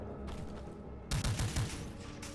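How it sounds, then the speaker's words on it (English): An automatic shotgun firing in the retro first-person shooter Incision, a rapid burst of several heavy blasts in quick succession after a quieter stretch of game ambience. "Looks like an automatic shotgun?"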